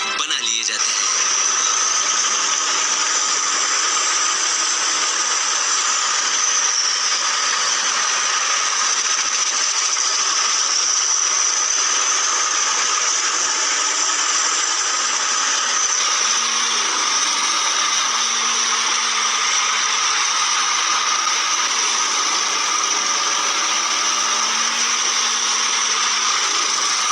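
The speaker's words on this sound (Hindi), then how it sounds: "तो अब ऐसे इन लकड़ों को गजब तरीके से पीस कर ऐसे इनके छोटे छोटे चिप्स बना लिए जाते हैं।" Factory machine grinding wood logs into small chips for pencil making, a steady, loud, continuous mechanical whirring and grinding that runs without pause throughout, with a slight shift in tone partway through.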